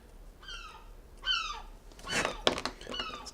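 Seagulls calling near the sea in Plymouth, several short mewing cries at moderate distance, interrupted midway by a burst of nearby clattering and knocking before the gull calls return.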